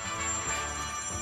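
A telephone rings steadily with a bright, sustained electronic tone throughout, close and fairly loud.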